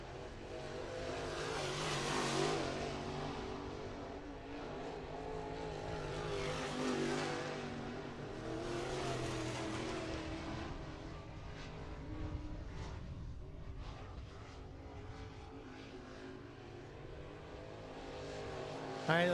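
Dirt track race cars on qualifying laps at Muskingum County Speedway in Dresden, Ohio, roar past in swelling waves, engines rising and fading as each car circles, loud and continuous with a faint voice in the background.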